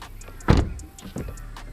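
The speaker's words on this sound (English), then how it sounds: "you'll see the window go up" A 2023 Subaru BRZ door is pushed shut with a loud thump, then the frameless power window whirs briefly upward to seal, a soft close motor sound ending in a small second knock.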